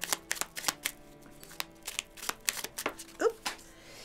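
Oracle cards are shuffled by hand in a quiet room, a soft, close sequence of quick papery riffles and taps with one brighter flick near the end.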